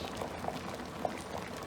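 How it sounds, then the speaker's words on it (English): A pot of Jamaican soup with breadfruit, corn, cho-cho, potato, carrots, pumpkin and coconut juice bubbles steadily, a soft close simmer of small pops and gurgles. "It's bubbling up now in it."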